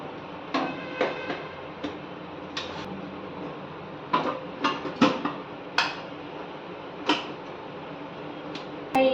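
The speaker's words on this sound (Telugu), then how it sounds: "మూత పెట్టేసుకొని మనం రైస్ కుక్కర్లో పెట్టేద్దాం" In a home kitchen, a lid goes onto a pot of salted ragi mixture and the pot is set into a rice cooker, making a string of close metallic clanks and taps, some sharp and some softer, spread irregularly over several seconds.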